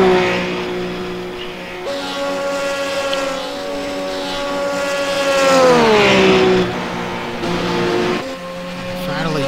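Race car engines in iRacing, RUF GT3 cars on the Daytona road course, a loud sustained engine whine that sweeps down in pitch around the middle and then climbs again, with a gear change near the start and another near the end.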